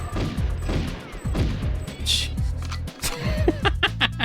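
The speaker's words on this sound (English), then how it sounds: "I'm missing a lot of shots here." Rapid gunfire in the GoldenEye 007 Agent mode shooter, repeated sharp shots in quick bursts with impacts and clatter, fairly loud throughout, with a few brief game effects near the end.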